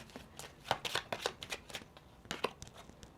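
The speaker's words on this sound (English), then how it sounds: "We're going to pull 2 cards below it to kind of clarify." Tarot cards riffle and snap as a deck is shuffled and two cards are pulled, a close series of quick papery flutters and slaps in uneven bursts with a short pause in the middle.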